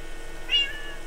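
A single short cat meow from the video game Minecraft, heard once midway over a low steady background hum.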